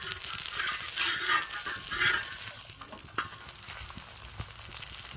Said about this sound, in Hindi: तो इस तरह से हम तवे पर रखेंगे इसको इस तरह से, और दोनों साइड से हम सेकेंगे